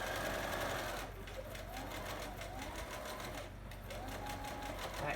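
A sewing machine stitches the last seam of a fabric mask tie, a continuous fast rhythmic whirring and knocking that runs steadily throughout, close by, with a brief slowdown partway.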